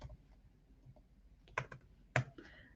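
Keys on a computer keyboard are tapped in a quiet, irregular burst, with a few sharper, louder clicks standing out among the soft presses.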